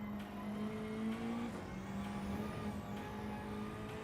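A Nissan GT-R Nismo engine in the Gran Turismo 7 racing game, running at Deep Forest Raceway reversed: a steady, sustained engine drone with rising and falling pitch as it holds speed through the corners, continuous and with no talking.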